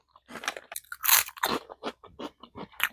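Crunchy salted snap pea snacks are bitten and chewed up close, loud brittle crunches in quick irregular bursts with short pauses between them.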